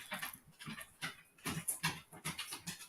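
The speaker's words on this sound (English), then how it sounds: "These dogs." Dogs give quick, faint whimpers and pants in a rapid, uneven series, nearby but quiet, with no voices.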